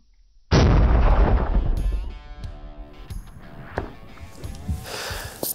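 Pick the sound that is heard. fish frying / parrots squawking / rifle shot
rifle shot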